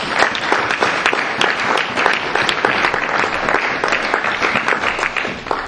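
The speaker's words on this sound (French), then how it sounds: "On peut acclamer pour les femmes de qualité quand même" Church audience applauding for the women of the congregation, a steady dense clapping from many hands that fills the room evenly for several seconds, close and loud.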